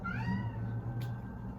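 A house cat lets out a long, drawn-out meow close by, rising then falling in pitch, over a low steady background hum.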